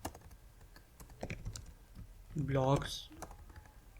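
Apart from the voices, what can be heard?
typing text on a computer keyboard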